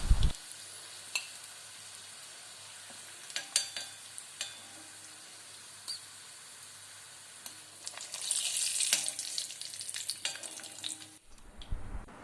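Egg fingers frying in hot oil give a steady, fairly quiet sizzle with scattered crackles and light stirring clicks, growing busier toward the end.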